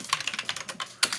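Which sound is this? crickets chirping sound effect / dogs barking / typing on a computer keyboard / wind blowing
typing on a computer keyboard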